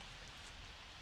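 Steady rain falling in The Sims 4 video game, a soft continuous hiss of drops on surfaces with no breaks, fairly quiet and heard alone.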